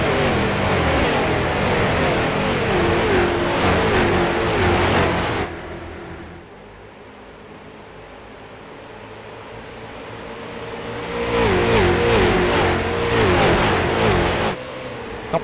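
Race cars in the iRacing sim at Iowa, an IROC series race, roar loudly past with engine drones, fading to a distant hum before another pack sweeps back through with rising and falling engine notes.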